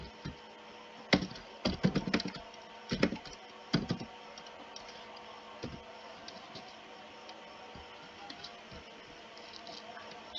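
Computer keyboard typing into an Excel spreadsheet, bursts of quick key clicks in the first four seconds, then sparse isolated taps over a steady background hiss.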